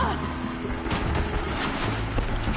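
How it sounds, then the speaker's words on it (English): Enemy gunfire aimed at the player in the video game Horizon Zero Dawn, a dense continuous wash of shots and mechanical noise with game sound effects layered throughout, loud and unbroken. "Oh, you're still shooting at me."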